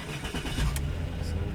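A Jaguar X-Type 3.0 Sport with a 231 bhp engine starts up: a cranking burst that catches into a steady, close idle rumble, with a voice briefly present.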